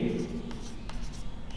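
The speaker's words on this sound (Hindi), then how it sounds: "अब देखो हम सूत्र लिखते हैं" Chalk or marker scratching out a formula on a board in a maths lesson, a few short strokes and taps close by, with a voice speaking over it.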